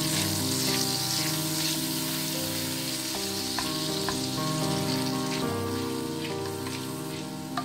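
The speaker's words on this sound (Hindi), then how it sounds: "ये बटर को मेल्ट करना है।" Butter melts in a pan of hot oil with a steady, soft sizzle and crackle, scattered pops rising over a constant hiss, no voices.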